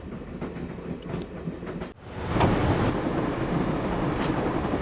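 Train running in the Broken Sword video game: a steady rumbling roll of railway wagons with faint clickety-clack, a brief dip near the middle, then a louder, continuous rushing clatter alone.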